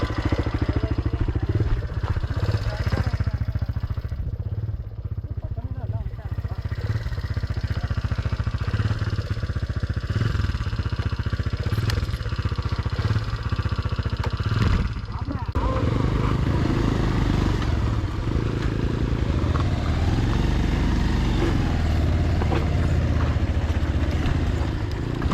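A motorcycle riding away: a continuous low engine rumble that runs throughout and grows rougher toward the end, with people talking over it.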